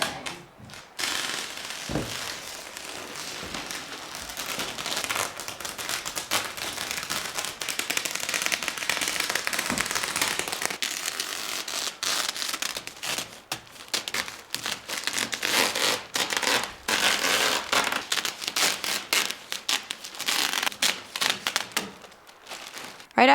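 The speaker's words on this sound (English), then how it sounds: "now I'm gonna cut a hole for the window" A blade slices a window opening in house wrap on a partly wrapped wooden-framed studio, giving a continuous close crinkling, tearing rasp broken by crackles and brief pauses, with no speech.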